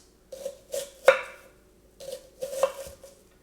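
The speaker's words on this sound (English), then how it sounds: "what you need to do with your onions is you need to cut them in half, like so" A knife cuts onions into half moons on a board, giving about five separate slicing knocks in two short bursts with a quiet gap between them, close and fairly crisp, with no voices.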